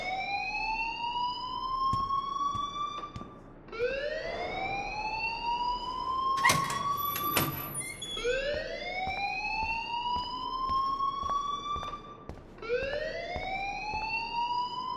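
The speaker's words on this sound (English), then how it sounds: "please turn off that alarm since that's your job" A fire alarm wails inside the Life Is Strange video game, three long rising sweeps repeating with harmonics, loud and steady, broken around the middle by a harsh burst of clatter.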